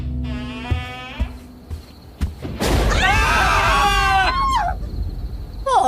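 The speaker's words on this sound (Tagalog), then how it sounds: "Pumunit ang tili naming makapanindig balahibo sa kalagitnaan ng gabi." A hair-raising scream in the middle of the night, a loud shrill wavering cry that rises and falls for a few seconds after some sharp knocks and thuds, with no talk over it.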